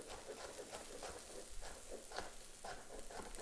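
Carrots fry in a pan with a soft, steady sizzle dotted with small crackles and pops, faint and continuous, with no voices over it.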